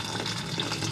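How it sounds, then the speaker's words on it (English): Ramen broth cooked with onions is poured into a pot aboard a sailboat in the Bahamas, a steady, close splashing stream of liquid that runs unbroken for under a second. "what I'm pouring the first amount into is going to be our ramen for this evening"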